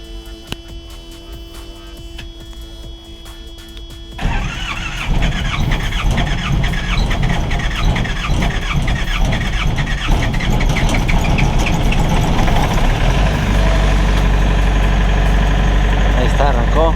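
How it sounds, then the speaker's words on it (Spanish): Truck engine cranking and catching after a battery change, then settling into a steady, loud idle with a constant low rumble, faint hum before it starts. "Ahí está, arrancó."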